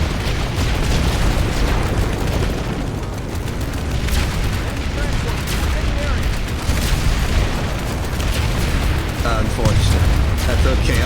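Explosions in the shooter game Planetside 2: a constant loud barrage of booms and blasts with rapid gunfire crackle layered throughout, with voices talking over the din.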